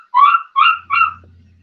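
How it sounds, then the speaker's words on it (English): A puppy whimpers three times in quick succession, each cry a short, high, wavering whine close by, followed by a faint low hum with no voices. "probably Josh's puppy"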